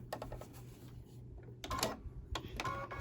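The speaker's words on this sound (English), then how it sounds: "I'm going to hold that button in and let it stitch slowly" An embroidery machine stitching a bee coaster slowly, heard up close as quiet, irregular mechanical clicks and whirring bursts with short gaps between them and no talking.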